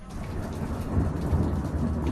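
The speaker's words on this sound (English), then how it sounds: "Storms across much of the UK as Mother Nature let off steam" Thunderstorm over the UK with steady heavy rain and a deep, rolling rumble of thunder that swells midway and stays loud throughout.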